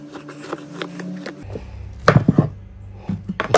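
Knife chopping through raw jackfruit on a board: a few soft strokes, then sharper, louder cuts landing in irregular clusters, close up with no talking.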